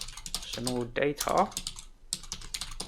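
Computer keyboard keys tapped in quick, irregular bursts while typing a file name, close and fairly quiet, with a voice talking over much of it.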